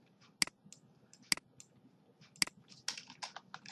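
Typing on a computer keyboard while writing CSS code, a few crisp, uneven keystrokes close up with softer clicks scattered between, no voice.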